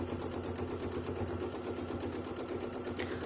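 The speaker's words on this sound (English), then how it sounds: "So let's go ahead and we'll sew that out" A sewing machine stitching a circle design on a quilt, a steady fast mechanical chatter running evenly and close throughout.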